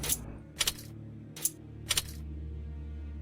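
Keys jangle in a Sherlock Holmes detective game, four short bright metallic clinks spaced about half a second apart over a low steady ambient hum, close and fairly crisp.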